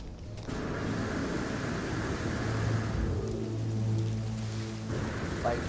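A No Man's Sky storm brings steady heavy rain with low rumbling thunder beneath it, loud and constant throughout the short stretch.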